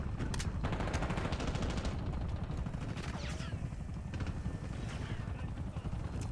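Rapid gunfire crackles through a Call of Duty: Black Ops 6 multiplayer match, dense bursts and single shots over continuous battle noise, with voices talking throughout.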